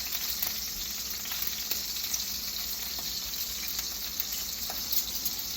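Steaks frying in a pan, a loud dense continuous sizzle with faint occasional crackles and no voices.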